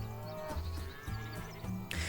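Cattle lowing in the farm management game Farm Manager 2021, a few moderate moo-like calls over a steady backdrop of background music, with no talking.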